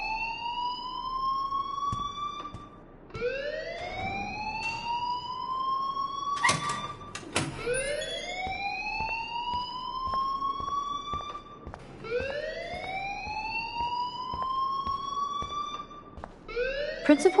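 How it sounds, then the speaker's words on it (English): The school alarm in the video game Life is Strange wails in repeated rising whoop sweeps, loud and continuous, with a couple of sharp clicks in the middle. "please turn off that alarm since that's your job"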